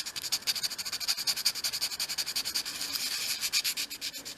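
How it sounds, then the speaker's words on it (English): Fine-grained sandpaper rubbed back and forth along the edges of a small 1/12 scale miniature tape dispenser piece, a steady run of quick, close, dry scratching strokes with no talking. "take a piece of fine grained sandpaper and just sand along the edges as well"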